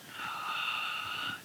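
A single slow, breathy exhale during a yoga flow, close and fairly quiet, with a soft airy wheeze lasting just over a second.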